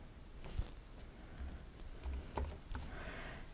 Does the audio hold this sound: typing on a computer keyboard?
yes